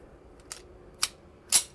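Three sharp, short reports spaced about half a second apart from a TT33 Tokarev pistol, crisp and fairly quiet with little low-end boom.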